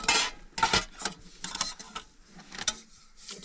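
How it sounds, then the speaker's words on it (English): Metal cookware clanks and scrapes in irregular bursts while beans are cooked in a bigger pot on a camp burner in a truck camper, close and moderately loud with brief pauses between knocks. "maybe I should do it in the bigger pot so I can just mix everything in there"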